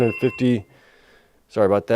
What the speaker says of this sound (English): Forgot to mute my phone.